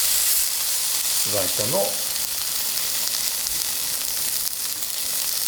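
Tuna sears over high heat with a loud, steady broadband sizzle that fills the whole stretch, while a brief voice speaks over it.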